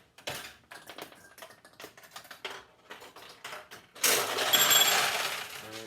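A vintage 1974 Nishijin Model B pachinko machine: a run of quick, sharp metallic clicks and ticks as balls are launched, then a loud, bright rattling clatter of balls cascading through the machine.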